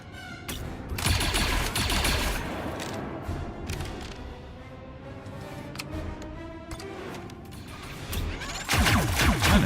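Gunfire in an XCOM video game erupts as loud, rapid bursts of shots with crashing impacts and debris, settling into a rattling stretch before another heavy volley near the end.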